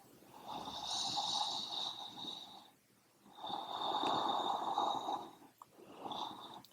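A deep, slow breath drawn during a calm yoga flow, long airy inhales with a soft whistle, two sustained swells separated by a pause, close and quiet.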